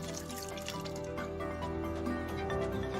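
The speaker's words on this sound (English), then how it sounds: "To finish off the job, providing a good dose of water." Water is poured onto soil in a balcony pot of freshly planted bulbs, including alliums, making a steady, soft trickling and dripping under gentle background music.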